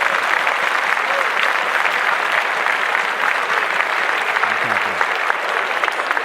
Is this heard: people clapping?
yes